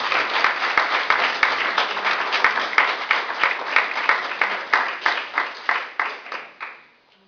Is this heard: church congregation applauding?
yes